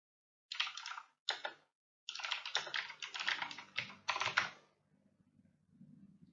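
Computer keyboard typing a Google search, several close bursts of rapid key clicks separated by short pauses, ending in faint softer tapping.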